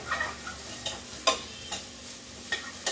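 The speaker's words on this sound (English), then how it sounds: "So we're just going to give it a good stir." Frying onions for chicken biryani are stirred in a hot pan, with a steady sizzle and several scraping stir strokes spaced irregularly, close and moderately quiet, with no talking.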